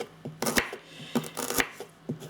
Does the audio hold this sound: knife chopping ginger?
yes